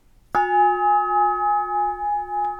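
A single strike on a clarion bell made from a truck brake drum, tuned to A flat, rings out clear and pure, sustaining with a slow shimmering beat as it fades; a faint tap follows near the end.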